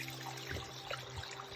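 A mountain stream trickles on a hiking trail near Lake Tahoe, a faint, steady babble of water running continuously throughout.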